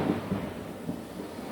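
A low rumble of thunder played as a lightning sound cue, rolling steadily and fairly quiet for about a second and a half, alone with no voices.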